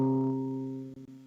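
A single electronic piano note C sustains evenly and fades slowly, close and clear with nothing else heard, then breaks off briefly near the end.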